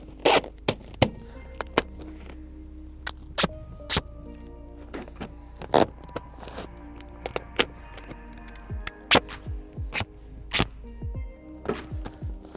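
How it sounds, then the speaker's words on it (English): Duct tape pulled off the roll in sharp tearing rips and wrapped around an item while preparing to plant a soybean food plot, a dozen or so brief crackling pulls spread across a quiet outdoor scene with a low steady hum. "take your duct tape. You want to tape it up real good."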